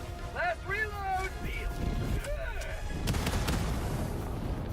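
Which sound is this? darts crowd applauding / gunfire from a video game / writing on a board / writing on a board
gunfire from a video game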